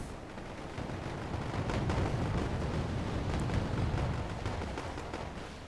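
Leopard tank firing amid a dense, continuous battle in the game Wargame Airland Battle, with loud overlapping cannon blasts and gunfire rumbling throughout.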